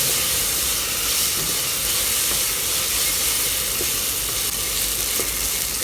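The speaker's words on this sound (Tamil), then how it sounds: "சேர்த்துட்டு இஞ்சி பூண்டோட பேஸ்ட்டோட பச்சை வாசனை போகிற அளவுக்கு நல்லா வதக்கி விட்டுக்கோங்க" Ginger-garlic paste sautés in a hot pan for a vegetable pulao, giving off a steady, close sizzle with hissing steam and occasional stirring scrapes. The sound runs unbroken, and no one speaks.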